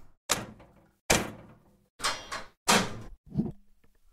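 Door sound effects from an open game art pack play as four or five heavy bangs and thuds in quick succession, each with a short rattling decay. Loud and close, with no voices.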